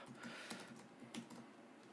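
Quiet, rapid key clicks on a computer keyboard as a folder name is typed, an irregular run of soft taps close to the microphone.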